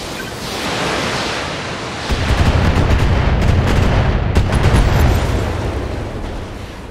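Heavy weapons fire from BattleTech mechs pounding a turret, a dense roar of booming blasts and rumbling impacts that swells after a couple of seconds and stays loud, with sharp cracks scattered through it.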